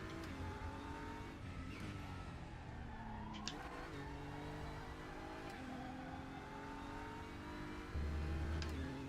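Simulated DTM race car engine from the Raceroom game, revving and shifting through gears with rising and falling harmonic tones, steady and loud, tire noise underneath and a heavier low-end surge near the end.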